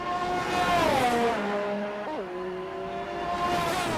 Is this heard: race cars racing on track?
yes